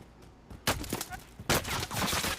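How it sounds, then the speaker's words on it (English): In a video game, a laser gun fires green ooze in two loud, harsh, broadband bursts, the second one sustained and noisy. A short gap falls between the blasts. "A laser gun shooting green ooze."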